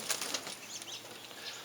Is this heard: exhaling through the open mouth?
no